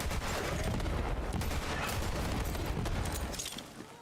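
Rapid bursts of gunfire from a gun in Borderlands 3, loud and dense, firing continuously for several seconds before tapering off at the end.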